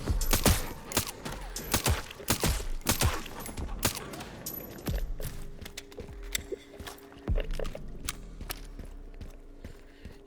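Gunfire in the video game Resident Evil Requiem: a rapid burst of sharp shots in the first half, then sparser single shots and thuds with a low hum, moderately faint.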